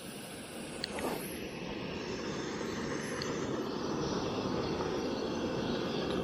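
A Coleman 508a camp stove burner roaring on high outdoors on a cold day with a kettle on top, a steady loud broadband rushing hiss throughout, preceded by a small click, no talk.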